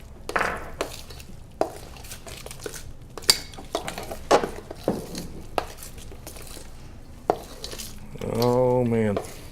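A spoon scrapes and clinks repeatedly against a bowl while sweet potato casserole ingredients are stirred together, irregular knocks spread through a quiet kitchen, with a short voiced sound at the end.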